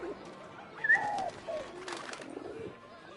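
A pigeon cooing in the video game Eleven Eleven, a few soft throaty coos in close succession, fairly quiet over low background sound.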